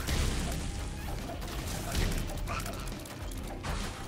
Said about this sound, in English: Double tap to shoot a fireball.